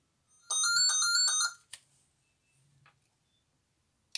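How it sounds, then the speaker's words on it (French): A landline telephone gives one bright electronic ring lasting about a second, then a few faint clicks and ticks follow in an otherwise quiet room. "vous avez eu droit au téléphone"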